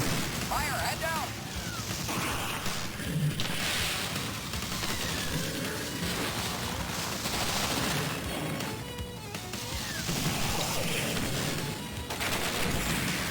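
Rapid, continuous gunfire from a Sega CD video game, dense shots and blasts layered with game music and a talking voice throughout.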